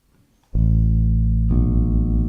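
A bass guitar's A string rings out as it is tuned, struck once and then plucked again a second later, each note sustaining loud and steady with deep harmonics and nothing else in the background.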